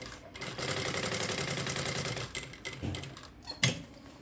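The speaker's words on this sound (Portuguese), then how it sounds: "E eu só vou vir aqui e costurar o forro" Domestic sewing machine stitching the lining of a double-trunk zippered toiletry bag, a steady rapid mechanical whir and needle patter for a few seconds, then slowing into a few isolated clicks and thumps.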